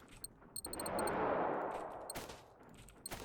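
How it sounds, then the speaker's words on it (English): Distant automatic gunfire in the video game Generation Zero, a muffled rolling burst swelling and fading, punctuated by sharp high-pitched interface clicks and taps. "That sounds like it's being shot at me."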